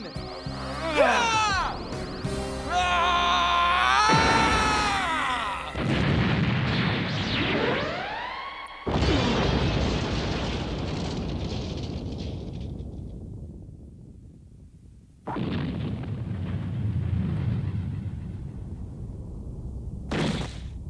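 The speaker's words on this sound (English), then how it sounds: "with the help of Kuwabara, Hiei, and Kurama, unleashes the spirit gun to end all" A Spirit Gun energy blast from the Yu Yu Hakusho anime bursts out loud, followed by a long rumbling decay and a second booming surge, set among shouting and dramatic effects.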